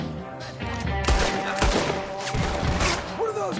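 Rapid bursts of gunfire from a Red Dead Redemption 2 shootout crackle loudly and continuously, with heavy thuds mixed in and a voice briefly speaking over the shots.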